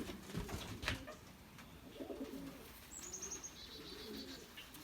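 A 2.5-month-old young pigeon gives soft, low coos in a few short phrases over a busy background, with a brief high chirp partway through.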